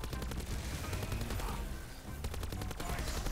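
Rapid automatic gunfire rattles in dense bursts against a boss's back sores in Call of Duty zombies, with a brief lull midway before the volleys resume.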